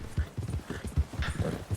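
Horse hooves while riding in a video game, an even, hollow clip-clop gait close by, about two or three steps each second.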